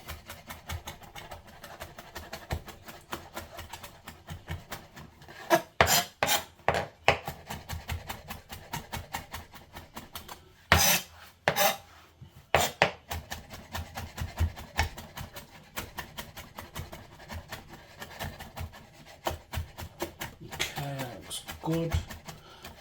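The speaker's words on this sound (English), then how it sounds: "just give it a quick chop as I said before" Knife chopping ingredients for roti on a sturdy board, with rapid irregular clusters of crisp taps separated by pauses, close and moderately loud, with occasional talking in between.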